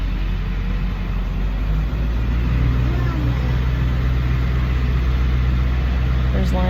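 Car engine running steadily at low speed while reversing a long way with a trailer hitched, a continuous mid-pitched drone with faint talk over it.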